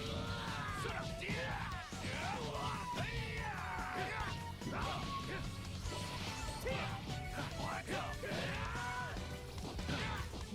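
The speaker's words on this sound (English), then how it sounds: "it looks like I actually found like dimension shattering when he punches" Dense, continuous barrage of heavy punch impacts and crashing blasts from a Dragon Ball Sparking Zero fight, including dimension-shattering punches, loud and chaotic with swooshes and faint yells throughout.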